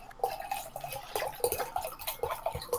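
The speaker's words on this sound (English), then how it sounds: "Sorry, I was pouring a little sangria." Wine-based sangria poured at home, giving a run of small liquid splashes and drips with a bubbling, irregular pattern, close and moderately quiet, with no voices over it.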